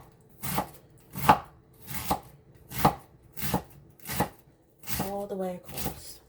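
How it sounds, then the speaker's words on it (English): A knife thinly slicing cabbage for coleslaw, making about eight crisp, evenly spaced cuts on a board, close and distinct, with a brief voice near the end. "I'm not going to use a food processor. I'm just going to go ahead and slice"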